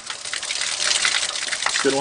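Water rushes steadily through a carved Inca stone channel at Machu Picchu, a close, bright gushing flow, while a voice speaks over it near the end.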